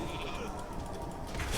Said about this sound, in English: someone turned that into a sheep.